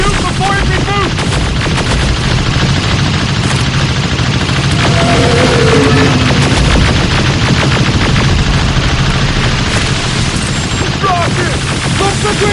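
Rapid, continuous automatic gunfire from a video game battle in Terminator: Resistance, loud and relentless with cracking bursts and heavy impacts, mixed with brief shouted voices.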